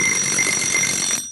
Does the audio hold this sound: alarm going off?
yes